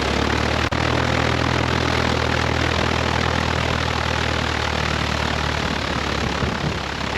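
A Cessna airplane's engine roars loud and steady at full power for takeoff from runway 6 left on Guam, a dense, continuous drone with no voices over it.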